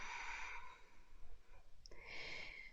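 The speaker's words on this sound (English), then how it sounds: "breathing deeply here" Deep breathing during a Kundalini yoga session, a long airy exhale, a pause, then another breath, soft and close with no talk.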